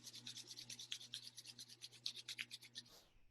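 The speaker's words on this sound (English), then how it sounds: "Rub the palms together." Palms rub briskly together in a steady back-and-forth rhythm of soft rasping strokes, close and quiet, before stopping near the end.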